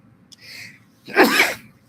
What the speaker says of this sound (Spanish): Próxima vez estornudo donde haya gente porque ninguno dijo salud